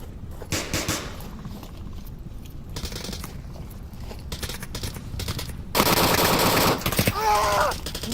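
Gunfire from the VR shooter Onward, with rapid bursts of automatic fire and scattered single shots, loud and close in clusters, some longer sustained volleys near the end, no talking.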